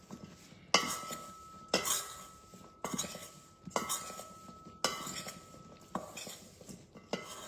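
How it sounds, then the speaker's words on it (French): Zucchini pieces stirred with cornstarch, spices and parmesan in a bowl, giving a series of about seven sharp scraping clinks of a utensil at a steady, unhurried rhythm, close and fairly quiet with a faint tonal ring after each stroke. "donc on rajoute les morceaux de courgettes. On mélange bien pour bien"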